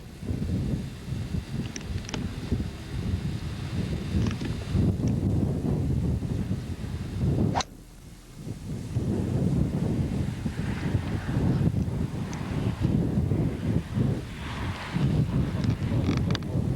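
Steady wind gusting across an outdoor golf driving range, a broad continuous rush with a brief lull midway before picking back up.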